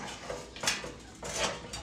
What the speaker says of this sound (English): So now we can remove this grate.